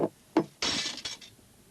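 An old porcelain dog figurine falls and breaks: a couple of light knocks, then a bright shattering crash with scattered clinking fragments that quickly die away, close and fairly loud.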